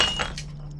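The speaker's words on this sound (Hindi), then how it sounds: "ओ समधन जी, कांच का टूटना तो शुभ होता है" A drinking glass breaks with a short, bright clink and a brief scatter of fragments, close and fairly soft, with a steady low hum beneath.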